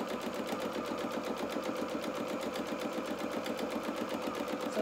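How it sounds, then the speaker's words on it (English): A sewing machine stitches a row along a doll dress seam with the stitch length set to 3, whirring steadily and closely with a fast even rhythmic clatter and no pauses. "we're going to run 1 row of stitches less than the seam allowance"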